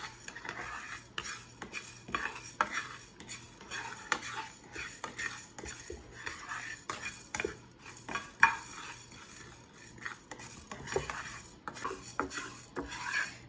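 Cumin and coriander seeds being dry-roasted in a pan, with repeated scraping, stirring and metallic clinks of a utensil against the pan, close and uneven in rhythm, with no talking.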